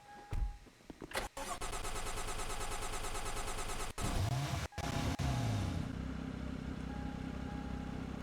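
A car engine in a video game starts with a crank and catch, then runs steadily at a mid-pitched idle for several seconds, briefly cutting out and returning before settling again.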